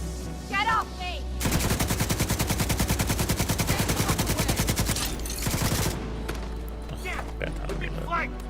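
Rapid automatic gunfire rings out in The Division 2, a long, loud, continuous burst of several seconds with short calls and scattered shots before and after, and a player talks during the fight.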